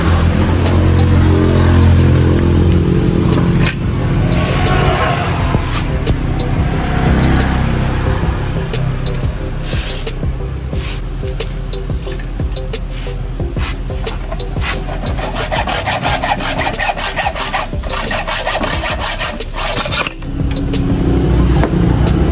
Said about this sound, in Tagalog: puputulin naman natin itong bolt na ito